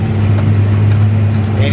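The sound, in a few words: 8530 tractor engine running hot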